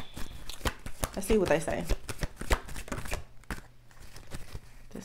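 Tarot cards shuffled and flicked close by in a rapid riffling burst, with softer card handling and taps around it while a person speaks briefly.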